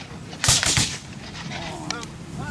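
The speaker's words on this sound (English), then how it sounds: "now they're doing what's called firing by file, which you see the fire starts at the right end of each company, and then each pair of men in turn fires down the length of the line" Rifle volley fired by file along a line of Civil War reenactor soldiers at a Gettysburg living history event, a few sharp reports popping in quick succession, fairly distant, followed by faint background murmur.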